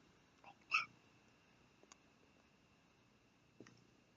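A reader imitates a hiccup with one short, sharp voiced gulp, followed by a few faint clicks in a quiet room.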